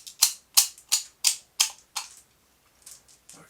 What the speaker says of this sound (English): this 12-round magazine, it's quite stiff. Let's take the rounds out of it.